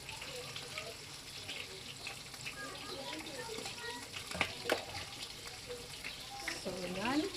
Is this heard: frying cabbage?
yes